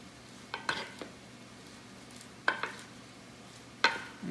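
Shrimp and arugula salad with avocado and onion being tossed and mixed in a bowl, giving a few quiet, scattered clinks and scrapes separated by near silence.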